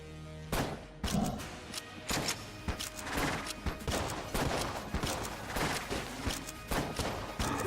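Rapid gunfire from the golden gun in the Enter the Gungeon video game during a dragon boss fight, a dense stream of sharp cracks and thuds over a layered game soundtrack.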